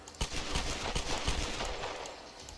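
Rapid bursts of video game gunfire from Tomb Raider (2013) crackle in a dense, continuous volley, loud and close, with no talking over it.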